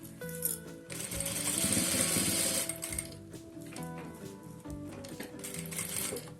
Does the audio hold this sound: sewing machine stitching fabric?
yes